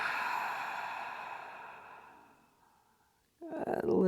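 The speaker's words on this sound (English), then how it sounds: "Slow breath out." A slow, steady exhale during a beginner yoga practice, breathy and close, gradually fading over about two and a half seconds into quiet before a voice starts speaking.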